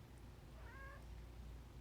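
A house cat gives a single faint meow in a quiet room, a brief harmonic call rising and falling over low background hum.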